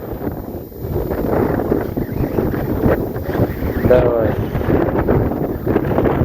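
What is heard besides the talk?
strong wind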